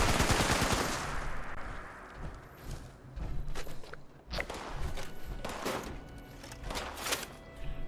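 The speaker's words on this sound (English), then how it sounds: "Somebody's shooting at me from back here." Gunfire in the video game Fallout 76 crackles in rapid bursts toward the player, a dense volley at first and then scattered sharp shots with thuds and footsteps between.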